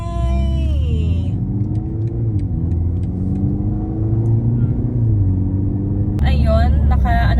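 Road traffic with many cars, heard from inside a moving vehicle stuck in a jam near an accident in Geneva: a steady low engine and road rumble throughout, with people talking over it.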